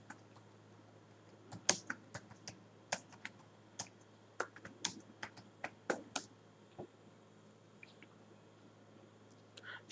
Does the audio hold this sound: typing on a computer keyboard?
yes